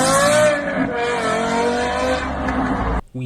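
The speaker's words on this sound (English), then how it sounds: "We need that V10 replicated." A V10 car engine revs in a steady, rising high-pitched wail with harmonic whine, loud and close, cutting off abruptly near the end with a brief stutter.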